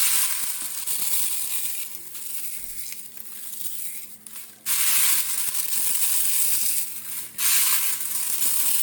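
Basil leaves, dried in an oven for two hours, are crumbled by hand, producing loud, close, dry crackling and crunching in dense bursts with a couple of short pauses.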